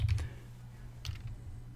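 Keys clatter in a short burst on a computer keyboard, a quick cluster of clicks at the start and another pair about a second later over a low steady hum, fairly quiet and close.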